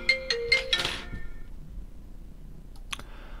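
A phone's electronic ringtone sounds in a few quick repeated tonal bursts, then stops, followed by a brief clink and quiet room tone.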